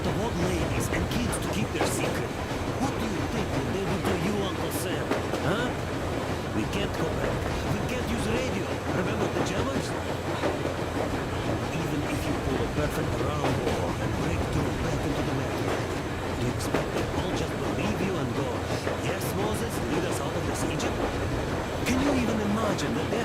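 A train from the game Metro Exodus, the Eastern Express, speeding along: a steady, close, loud rumble with rattling and faint rhythmic clatter that runs the whole length, with no one talking.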